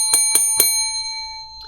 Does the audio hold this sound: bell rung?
yes